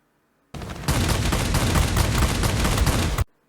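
A ground attack aircraft fires its guns in a strafing run in World of Warplanes, one sustained loud burst of rapid automatic fire lasting nearly three seconds before it cuts off.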